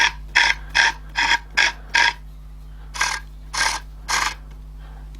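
A massive pepper mill's mechanism turning, giving a series of short, evenly spaced scraping grinds, five quick strokes then three slower ones, close and fairly faint against a steady low hum.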